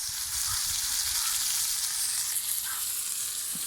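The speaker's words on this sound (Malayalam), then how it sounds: "ആ സമയം കൊണ്ട് ഞാൻ മീൻ ഫ്രൈ ചെയ്യാൻ വെച്ചിട്ടുണ്ട്." Fish fries in a pan with a soft, steady sizzle that stays even and fairly quiet throughout, with no voices.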